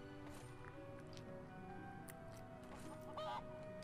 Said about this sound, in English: And we have another chicken.